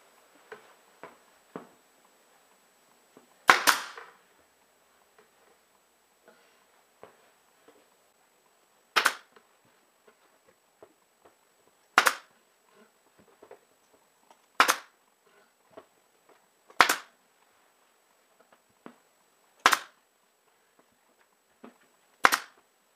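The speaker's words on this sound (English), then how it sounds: "if you are going to buy a staple gun, look for one that has the smallest space from where the staples come out to this flat edge" A staple gun fires staples through fabric into the back of a padded dining chair, giving sharp, loud single snaps spaced a few seconds apart. Faint handling clicks and rustles fill the gaps.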